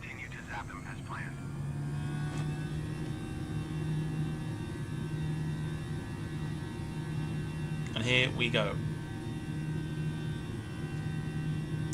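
Simulated Airbus A320 engines throttled back to reduced power in Microsoft Flight Simulator 2020, a steady droning hum running throughout with someone talking briefly at the start and again near the end.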